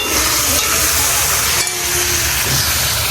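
Meat sizzles loudly in a hot pan and is stirred, giving a close, constant hissing fry with a brief scraping break partway through.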